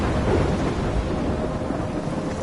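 Steady rain and rolling thunder from a storm in the video game Life is Strange, a continuous dense wash of noise with low rumbling underneath and no speech.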